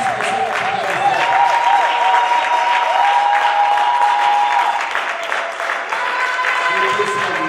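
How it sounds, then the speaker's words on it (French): A church congregation at a worship service claps and cheers loudly and steadily to acclaim the Lord, with sustained applause and shouts of joy under music and a voice speaking over it. "Est-ce que tu peux acclamer encore plus que ce que tu viens de faire?"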